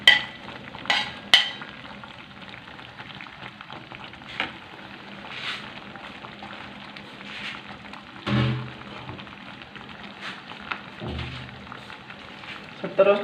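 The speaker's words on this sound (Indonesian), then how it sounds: "sekarang saya masukkan cili yang sudah saya potong nih sahabatku" Chopped chili goes into a pan with oyster mushrooms and sizzles with a soft, steady crackle. Scattered stirring clatters and light knocks come through, and a voice speaks at times.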